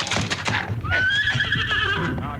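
A horse whinnies loudly in a Western radio drama, a rising then long wavering neigh with a faint clip-clop of hooves underneath, close and alone with no talk.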